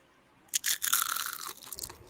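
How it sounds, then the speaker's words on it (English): A bite into a fried pickle gives a loud, close crunch followed by a second or so of crackly chewing, then it fades to quiet. "but y'all need to hear this crunch"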